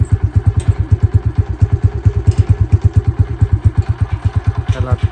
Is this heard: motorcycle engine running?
yes